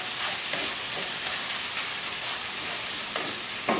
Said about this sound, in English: I'm going to give that a quick stir.